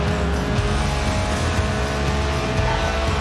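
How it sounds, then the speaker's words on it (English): A Lotus Elise, a 1990s mid-engine two-seat roadster, drives in Forza Horizon 4, its engine droning loud and steady throughout with a hint of tire noise. "the Lotus Elise, a 90s classic based on the age-old roadster recipe"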